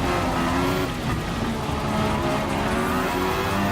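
Mercedes AMG F1 race car lapping Suzuka in the video game Gran Turismo Sport, a loud, steady high-revving engine whine with shifting pitch and a constant rushing roar, continuous throughout.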